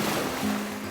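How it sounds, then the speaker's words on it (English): Waves wash steadily onto a tropical beach, a broad continuous rushing roar, close and loud without talk. "as I walked this beautiful beach to the sound of waves crashing over and over again"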